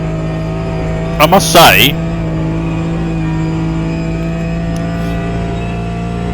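A Porsche 911 GT4 idles and hums steadily at Spa in Automobilista 2, a constant close engine drone with a few brief sharp chirps early on, while someone talks over it.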